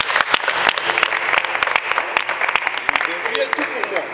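An audience at a Goshen Praise gospel music gathering breaks into sustained applause, many hands clapping sharply and irregularly at close range, with voices mixed in beneath the clapping.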